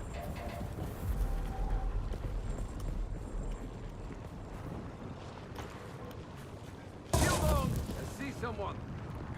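An automated turret in the game Dune: Awakening fires rapid bursts over a rumbling background, with a sharper, louder volley near the end; the shots sit under ongoing game noise.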